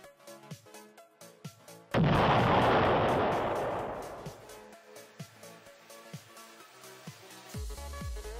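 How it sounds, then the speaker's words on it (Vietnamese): Bomb detonated remotely, a single sudden loud blast that roars and decays over a couple of seconds, set against background music. "họ luôn cố gắng kích nổ quả bom từ xa,"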